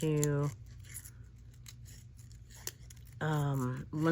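Scissors snip out paper pieces for collage journaling, producing close, crisp cuts and rustles in a quiet stretch framed by a voice talking before and after.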